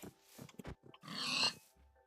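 A pig in the Minecraft video game gives short grunting oinks as it is hit, a quick burst of squeals that then fades out.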